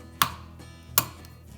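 Two sharp, close taps about three-quarters of a second apart as an egg is cracked against the edge of a bowl for pancake batter, with quiet room tone between.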